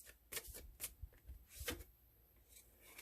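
Tarot cards are shuffled during a card reading, a close, quiet series of crisp riffling bursts and soft slaps at an uneven rhythm, with no voices.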